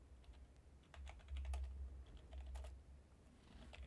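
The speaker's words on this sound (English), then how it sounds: "I'm typing a whole bunch of extra words with it" Keys clatter on a computer keyboard in quick irregular bursts of typing, faint and close, with no voices.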